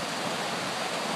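Water falls steadily over rocks into a pool outdoors, a close, continuous broadband rush with no pauses and no voices.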